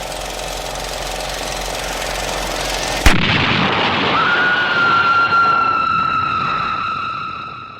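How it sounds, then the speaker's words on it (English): A vintage Super 8 projector running with a steady mechanical hum suddenly blows up in a single loud boom, followed by ringing electrical whine and ambient noise as it dies. "the big boom not only blew the house fuses, but scared the shit out of me"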